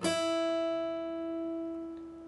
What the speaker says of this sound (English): place your middle finger on the 5th fret of your B